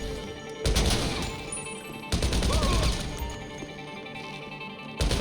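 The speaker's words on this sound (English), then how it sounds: "You want to shoot that camera." Gunfire in GTA 5 aimed at a security camera during a farm raid: three loud bursts of rapid shots with cracking impacts, separated by quieter gaps.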